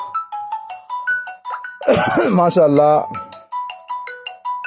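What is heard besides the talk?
phone ringtone, incoming call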